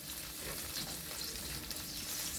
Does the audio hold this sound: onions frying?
yes